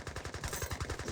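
Gatling guns firing in the strategy game Age of Empires 3, a rapid continuous rattle of shots at moderate loudness with no talk.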